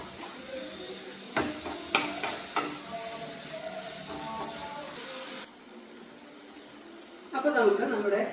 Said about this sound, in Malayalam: നന്നായിട്ട് നമ്മളിതിനെ ഒന്ന് മിക്സ് ചെയ്ത് കൊടുക്കുക.